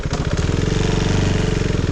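A KTM Duke 390 single-cylinder motorcycle engine runs steadily up close, a loud, even throbbing pulse with a strong low rumble and no pauses.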